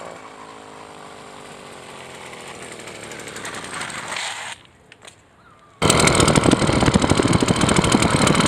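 An 80cc motorized bicycle engine buzzing and rising in pitch as it runs, cutting out briefly before a loud, raspy, rattling burst at higher speed.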